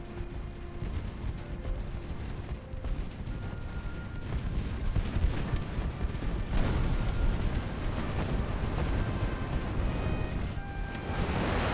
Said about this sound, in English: Oh, he's shooting at us.